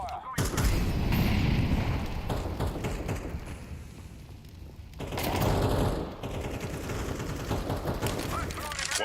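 Rapid bursts of gunfire in a shooter video game, dense and loud at the start, easing off midway and then returning in heavier volleys, with a voice talking over parts of it.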